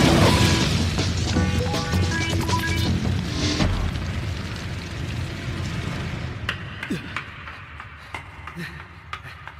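A fire attack explosion effect: a loud burst and booming crash up front that trails off into crackling pops and scattered hits, with a voice speaking over part of it.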